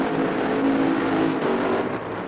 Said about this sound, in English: It's time now for round number 2 of Funny Car Eliminator.